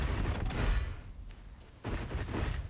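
Dense bursts of gunfire from an upgraded weapon in a video game, loud rapid shots in two clusters separated by a brief quieter gap.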